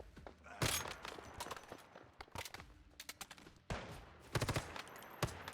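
Gunfire from a fight against zombies in the game Once Human: several sharp single shots and short bursts ring out at close range over about five seconds, separated by brief quieter gaps.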